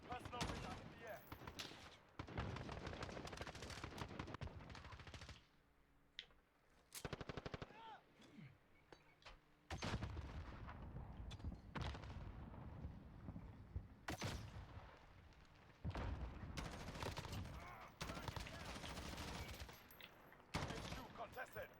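Rapid automatic gunfire from a Call of Duty Modern Warfare match, loud sustained bursts with brief gaps, mixed with in-game voice callouts and other speech.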